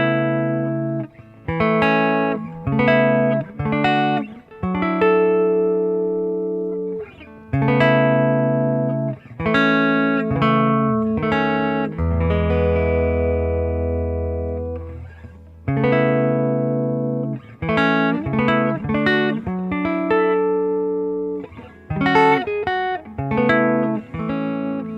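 Guitar chords are played in clear strums, bright and ringing, in bursts with short pauses and one long sustained chord in the middle, with no talking.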